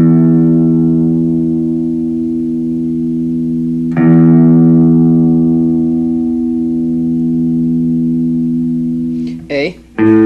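A guitar's low E string rings out sustained during tuning, plucked once, fading, then struck again near the middle with a bright attack and long decay, closing with a brief voice.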